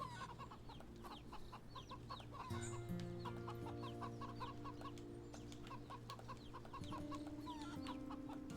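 A chicken clucking in the video game Wytchwood, with repeated short clucks and bird calls over a soft, steady game music backdrop.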